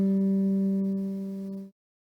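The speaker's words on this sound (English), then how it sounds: "the G string. And this one is sounds like this." The open G string of an acoustic guitar is plucked once and rings as a clear, steady single note for under two seconds before being abruptly muted, with no talking.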